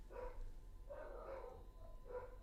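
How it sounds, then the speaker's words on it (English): Several dogs bark in bursts, somewhere off in the background of a room, muffled and at a moderate distance, with a steady low hum underneath. "I'm not sure what the dogs are barking at"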